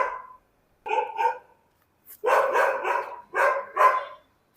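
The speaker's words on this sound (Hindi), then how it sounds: "कुत्ते उत्ते भोंकते हैं।" Dogs bark at a delivery rider out on a street, a short burst of barks followed by a longer run of loud, close, repeated barking with brief gaps between.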